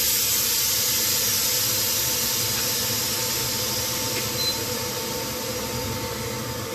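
A pressure cooker vents its built-up steam in one continuous, loud, forceful hiss that holds level throughout, with no speech over it.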